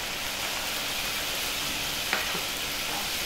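Tomato puree is worked into wine reducing in a pan for a chicken casserole, heard as a continuous soft sizzle and bubbling hiss with one faint clink of a utensil partway through.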